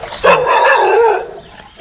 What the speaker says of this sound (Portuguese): agora um cachorro vai latir de novo